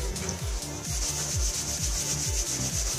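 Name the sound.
rubbing a plastic tube to charge it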